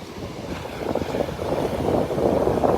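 Wind gusts across a beach in North Naples, Florida, a rough, blustery rumble that buffets the microphone and swells steadily louder over a few seconds. No voices can be heard.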